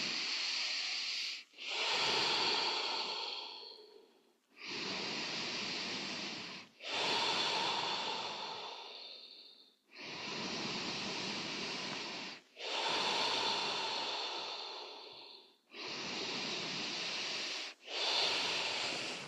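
Slow, steady meditation breathing, with long airy exhales repeating about every two to three seconds, close and clear with brief silent pauses between breaths.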